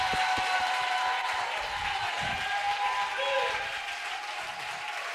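Church congregation applauding at a Sunday worship service, a dense, steady wash of many hands clapping close by, holding loud for the full stretch and easing only slightly toward the end.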